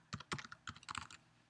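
Fingers tap out a short burst of keystrokes on a computer keyboard while a file name is entered, about a dozen quick, close clicks in uneven rhythm, alone and fairly faint.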